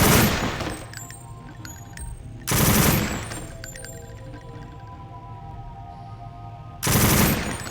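Bursts of gunfire at a firing range in the game Deus Ex: a loud volley at the start, another around the middle and a third at the end, with quieter ringing, clanking ambience between them.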